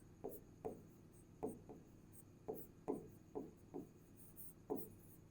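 Chalk or marker writing out an equation on a classroom board, heard as a series of about ten short taps and strokes in an uneven rhythm, close and fairly quiet, with no talking over it.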